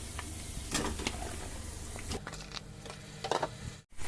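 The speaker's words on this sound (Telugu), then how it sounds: "ఇప్పుడు బాగా తిప్పుకుంటున్నాను." Chicken stirred in a cooking pot with fried onions, giving soft scraping, squelching stirs and a light background sizzle, repeated at an uneven pace.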